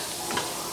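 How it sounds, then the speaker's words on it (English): Butter melting in a deep pan, a soft continuous sizzle and hiss with a faint tick partway through, steady and close. "My butter. Melting."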